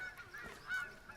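Birds honk like geese in a medieval video game set around a bishop's stairs, faint, scattered calls over a quiet hissing background.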